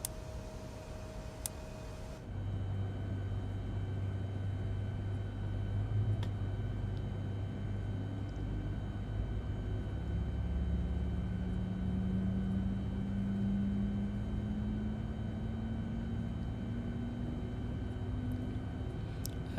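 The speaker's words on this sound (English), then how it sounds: "Alright, so let's start engine number 1." The number 1 engine of an X-Craft E-190 airliner in a flight simulator spools up after a click, a steady low hum joined by a rising whine that climbs gradually over many seconds, continuous with no talking.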